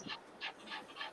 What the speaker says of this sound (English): I could hear the dog.